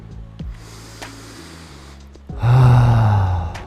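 A person breathes heavily to recover after a deep yoga back bend, with a few quiet breaths and soft gasps, then one loud, long exhale near the end.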